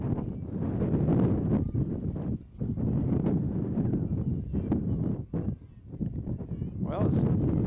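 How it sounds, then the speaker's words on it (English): Strong gusty wind buffets the microphone at an outdoor high school track meet in Bennington, a continuous loud roar with brief lulls, while announcers' voices run underneath. "it's time for that wind to let up a little"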